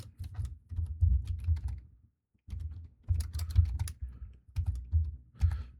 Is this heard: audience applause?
no